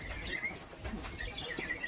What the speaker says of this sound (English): the sound is like nature, like birds